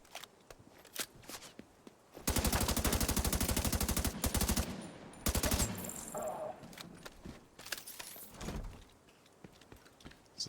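Rapid automatic gunfire in The Division 2, with long sustained bursts of evenly spaced shots up close, separated by short pauses and faint footsteps.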